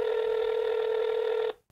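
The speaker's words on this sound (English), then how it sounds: "Dan, pick up the phone." A telephone call tone sounds as one steady, bright electronic tone held for about a second and a half, then cuts off abruptly into silence, with no voices.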